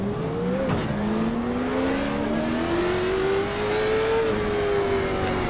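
A late model stock race car engine in the iRacing game at South Boston revs and pulls through gear changes. A steady, loud engine whine climbs in pitch, dips sharply at a shift, then rises again gradually, with no talk.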